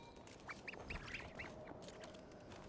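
Birds in the video game Genshin Impact give a short run of quacking, squawky calls in quick succession, fairly faint over a hissy background, then fade out.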